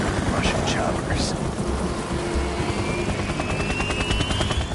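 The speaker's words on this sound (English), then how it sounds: "Russian choppers." Russian helicopters in the video game Metal Gear Solid 2, a loud, dense rotor roar with rumbling noise and rapid chopping pulses throughout, with a rising whine building in the background.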